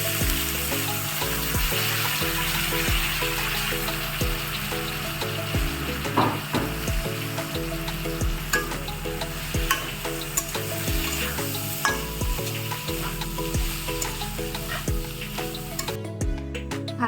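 Bhog rice frying in a pan for a fish head muri ghonto made with a katla fish head, giving a steady close sizzle with occasional stirring scrapes throughout and no voices.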